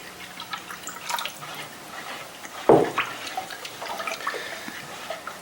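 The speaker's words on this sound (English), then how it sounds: "Stirring it a bit loosens it up, and at the beginning you'll find you'll have to add a little extra water to it." Clear glossy ceramic glaze stirred with a little added water, soft wet sloshing and faint drips with one louder splash-like knock partway through, quiet and close.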